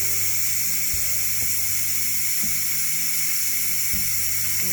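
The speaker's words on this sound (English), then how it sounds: "so it's been venting now for a few minutes" A pressure cooker vents steam during a roast beef cook, a loud, steady, close hiss that runs unbroken, with a few faint low knocks underneath.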